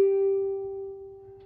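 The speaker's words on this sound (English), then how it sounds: "The top string should be a G, which sounds like this." A single plucked open G string on a ukulele rings out cleanly and close, holding one steady pitch and fading gradually over a second and a half.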